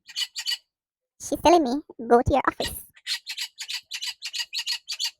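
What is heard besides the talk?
pet bird squawking and chattering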